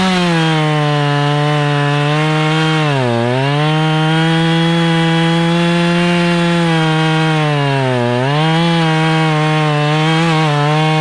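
A chainsaw runs loud and close at high revs, cutting into a dead tree that is being felled over a building, with steady droning and two brief dips in pitch as the chain bogs down in the wood.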